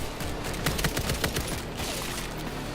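Video game gunfire rattles off in rapid, overlapping bursts of shots over a dense, noisy backdrop, loud and close throughout with no voices.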